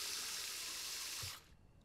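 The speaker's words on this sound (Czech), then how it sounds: "Proč nepustíš vodu?" Tap water runs steadily into a bathroom sink while a boy brushes his teeth, a close, even rushing hiss that stops abruptly just before the end.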